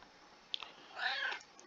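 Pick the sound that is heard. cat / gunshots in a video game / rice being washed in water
cat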